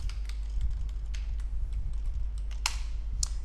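Keystrokes patter steadily on a computer keyboard with a few sharper, louder clacks standing out, all close and continuous with no talking.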